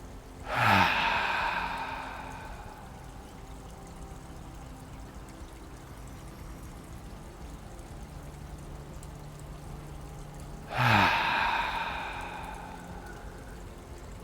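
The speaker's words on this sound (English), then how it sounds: "take a few deep breaths into the nose" Two slow, deep breaths in through the nose and out through the mouth during a morning yoga session, each a soft rushing inhale-exhale about ten seconds apart, close and quiet with a hushed pause between them.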